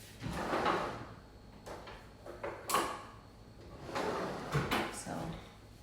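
A kitchen drawer is slid open and rummaged through for a spoon while fruit salad is made, with scraping, rattling clatter and a sharp clink.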